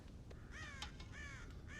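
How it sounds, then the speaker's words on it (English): Crows caw at a corn silo in the video game Red Dead Redemption, several short, faint calls repeating quickly over a constant background hiss. "God damn crows!"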